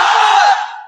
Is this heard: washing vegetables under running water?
no